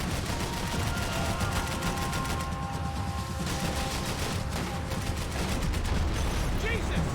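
Gunfire in the video game Max Payne 3, a steady busy stream of shots and bursts under game ambience and voices that run throughout.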